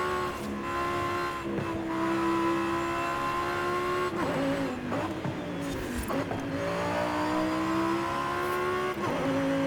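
Modified SUV race car in Forza Horizon, engine droning loud and steady with rising and falling revs, shifts and brief tire squeals, continuous close engine tone throughout.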